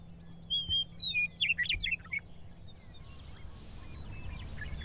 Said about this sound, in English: When Mother Nature rests and the snow settles into the soil, wild birds strut.